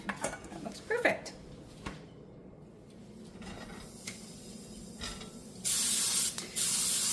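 Cooking oil sprays briefly into a pan while making an omelette, a steady hiss lasting about a second near the end, after scattered kitchen clatter and quiet movement.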